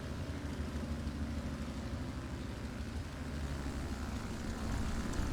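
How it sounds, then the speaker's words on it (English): A propeller aircraft drones overhead in the War Thunder tank-battle game, a steady, dense low rumble that holds level throughout and swells slightly near the end, with no voices. "I did see a plane coming in"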